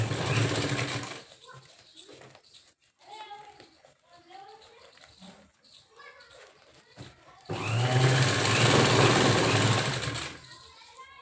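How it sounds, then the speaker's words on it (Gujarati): A sewing machine stitches T-shirt fabric while a purse is made, running in two long, loud, steady bursts, with talk heard in the pause between them. "હવે આને પણ અહીંયા સિલાઈ મારી દઈશું."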